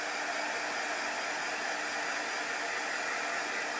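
Hair dryer blowing steadily and close on a chalk transfer, a constant broadband whoosh with no pauses and no talk.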